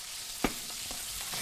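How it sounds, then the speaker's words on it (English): Marinated meat stir-fried in a wok with a splash of wine and soy sauce, a steady soft sizzle broken by a few sharp scraping stirs, close and moderately loud, with no talking. "And then when this is done, whoa, stir fry."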